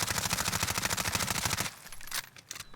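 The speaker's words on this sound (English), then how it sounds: "Empty out the whole clip with the AMAX" AMAX rifle fire in Warzone, a rapid, evenly spaced burst of shots emptying a full extended magazine, loud and sustained before cutting off abruptly, followed by a few scattered softer clicks and bangs.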